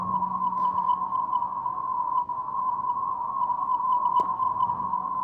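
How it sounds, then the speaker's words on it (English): A steady electronic tone said to come from an extraterrestrial craft, one pure pitch sustained without break, with a few faint clicks and a low hum early on. "this is the tone that created the image in your mind"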